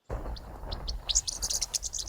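Birds near a rhino in Africa chirp in short, bright tweets, sparse at first then quicker and overlapping, close and clear over a low outdoor rumble.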